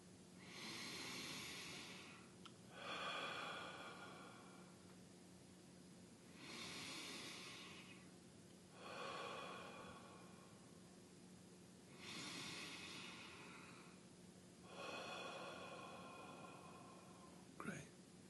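Slow, deep breathing during a guided meditation, about six long airy inhales and exhales at a steady rhythm, soft and close with no talking between them.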